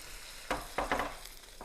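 Ginger garlic paste, green onion and broth being stirred in hot oil for a chicken vegetable soup, a faint low hiss with a few scraping spoon strokes through the mixture.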